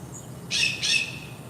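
Two short, bright squawking bird calls ring out in quick succession outdoors, fairly close over a quiet low background hum.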